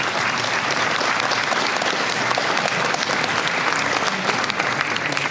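An indoor audience at a formal ceremony in Melbourne applauds warmly to welcome a speaker, a dense, continuous clapping that holds steady throughout with no voices over it.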